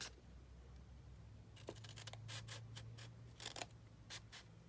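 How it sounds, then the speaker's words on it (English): Scissors snip through paper along a line on a journal card, a series of quiet, crisp clicks in irregular bursts over a low background hum. "get out your scissors, and you're just gonna cut it right on the line here"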